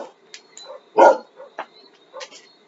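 Several dogs bark indoors in a sharp, close burst, with lighter yips and whimpers scattered before and after the loudest bark, and no talk over them.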